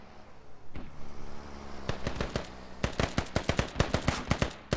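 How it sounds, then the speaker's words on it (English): Gunfire in the military shooter game Squad: scattered shots at first, then a rapid string of sharp cracks in quick rhythm, moderately loud over a low rumbling background. "They're shooting at a friendly right now."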